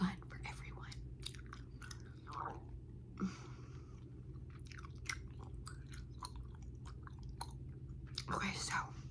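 Close, wet chewing of grape Big League Chew shredded bubblegum, with soft smacking and squishing at an intimate whisper level, punctuated by a few brief louder mouth sounds.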